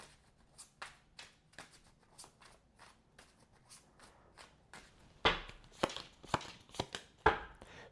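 A tarot oracle deck being shuffled by hand: soft papery riffles and taps at first, then several sharper, louder card slaps and riffles in quick bursts toward the end, close by with no talking.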